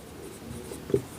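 Pen writing out a maths solution on paper or board during a cube roots lesson, a brief quiet scratch with a slightly firmer stroke near the end, with no talk over it.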